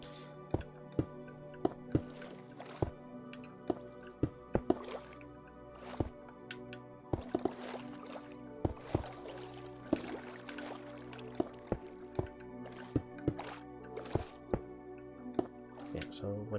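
Minecraft water drips and splashes in a building tutorial, a string of sharp drip plops coming every second or so over a soft, steady watery background.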